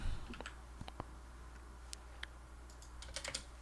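Someone types on a computer keyboard in short, irregular bursts of crisp clicks, close and fairly quiet, with longer pauses between key presses over faint background hum.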